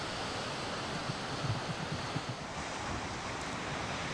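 Steady broadband roar of sea waves breaking and washing, with continuous surf and some wind noise at the microphone, loud and unbroken throughout.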